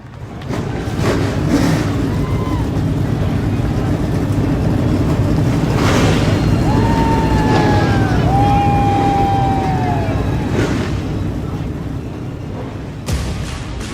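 Race car engines fire up and rumble together in the iRacing game on the Chicago street course, a steady loud drone with rising revs and whining pitch sweeps throughout.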